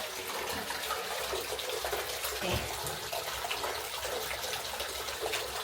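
Water runs steadily into a bubble bath from a tap, a continuous broadband rush that stays close and fairly loud throughout, with no one speaking.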